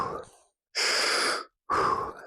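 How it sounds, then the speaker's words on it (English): Three deep breaths pass through the mouth, close and clear in a quiet room: a fading exhale, a long full breath, then another long breath. "3 deep breaths again through the mouth"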